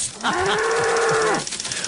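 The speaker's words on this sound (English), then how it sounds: "stop with those cow noises" A single cow gives one long, loud, close moo lasting about a second, with nothing else underneath.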